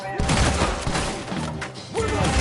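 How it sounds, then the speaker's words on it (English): Rapid bursts of gunfire in a Red Dead Redemption 2 shootout, loud and close, with crashing impacts and heavy thuds, layered with game music and voices speaking over the action. "What are those guns they have?"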